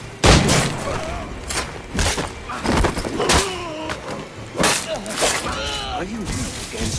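Several loud gunshots ring out in Assassin's Creed 4 Black Flag, sharp separate bangs spread over a few seconds amid battle noise, with voices shouting between them.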